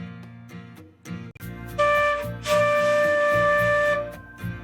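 A flute plays the note D in several short tones before settling into a long, steady sustained note, close and fairly loud, with no talking.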